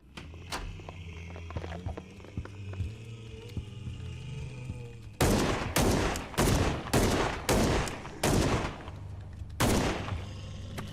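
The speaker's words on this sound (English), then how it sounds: "Hey, Lee, don't be wild shooting, bro" Gunfire rings out in a retro-style horror video game: a rapid burst of loud, sharp shots in the second half, each crack clearly separated, following a stretch of footsteps and ambient game noise.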